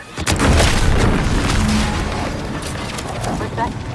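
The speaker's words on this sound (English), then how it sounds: "What's that? An explosion?" An explosion booms from a distance in The Outer Worlds 2, a low rumbling blast that rolls on for several seconds under the game's ambient noise.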